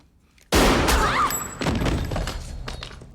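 A sudden loud burst of gunfire from the 1997 horror film Scream 2 erupts after brief quiet, followed by crashing, thudding impacts and ringing noise that trail off over a few seconds.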